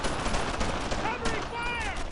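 Dense wartime gunfire in the WWII video game Brothers in Arms: Earned in Blood, set in a German-occupied French village, with rapid shots and bursts crackling continuously under shouted voices.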